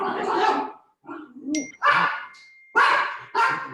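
Several dogs from a nearby puppy farm bark in loud, separate bursts with short gaps between them, plus a brief metallic ding in the middle.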